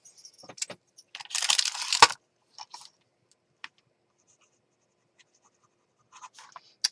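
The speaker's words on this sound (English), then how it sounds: "So I'm going to sign it." A pen signs a handmade Christmas journal, giving a short burst of scratchy writing strokes followed by scattered light taps and rustles of paper, close and quiet with long silent gaps.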